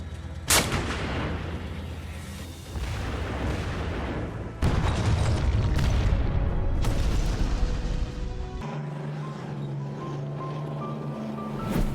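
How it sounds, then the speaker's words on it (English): Heavy artillery fires in a series of loud, booming blasts, each punching out and rolling into a long rumbling tail, with shifting background noise between the shots. "It has proven to be a highly effective and reliable artillery system, capable of delivering accurate and devastating firepower to enemy positions."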